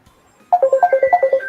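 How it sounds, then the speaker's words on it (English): Telephone ringtone with a repeating electronic melody of about ten short beeping notes, loud and close, starting after a quiet moment with no talk. "Let me answer the phone call."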